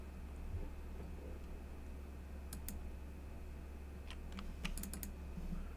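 Keys clacking on a computer keyboard in scattered, irregular taps and short bursts, fairly quiet over a steady low hum, with no voices.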